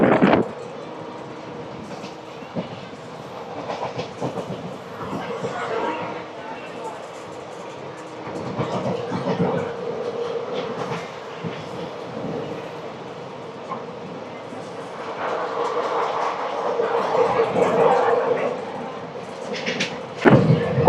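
The 17249 Tirupati–Kakinada Town Express running at speed over the Godavari bridge, a steady rolling rumble and rattling clatter heard from onboard, rising and falling, with occasional voices.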